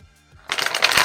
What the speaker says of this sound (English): We're going to shuffle one more time.